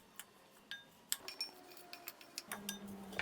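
Ketchup, tamarind pulp and salt stirred together in a bowl, a spoon clinking against the sides in scattered light taps, then steadier scraping toward the end, quiet and close.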